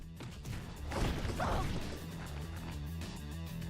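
A punch slams a body into a wall during a Fate/Stay Night visual novel fight, one heavy crashing impact with a brief whoosh, rising over a steady low music bed and then fading back.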